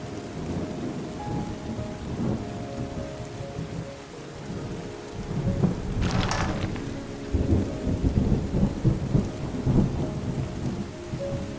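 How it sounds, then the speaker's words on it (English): A thunderstorm in the video game Terra Nil: steady rain patters over a low rumble, with a sharp thunder crack midway and further rolling rumbles afterward. "Hear that thunder."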